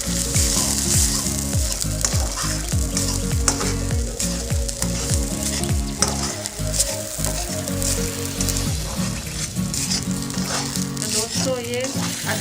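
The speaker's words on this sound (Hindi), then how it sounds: "अदरक को अच्छी तरह हम भूनेंगे" Ginger roasting and frying in a pan for a jaggery sweet, a loud continuous sizzle with repeated stirring scrapes, close up, and no talking.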